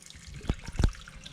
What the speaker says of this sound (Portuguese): E aí a gente deixa ela caindo numa água fria.